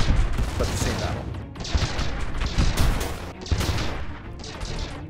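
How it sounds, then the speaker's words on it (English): Spaceship weapons fire in a space battle in the StarDrive 2 strategy game, a dense, steady fusillade of blasts and crashes with no pauses, loud and continuous throughout. "Oh yeah, okay, so he is shooting at the cruiser"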